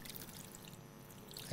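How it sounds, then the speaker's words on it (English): Clean water poured over hands for washing, a continuous soft pouring trickle close by, ending in a brief louder splash. "So we're using clean water to wash our hands."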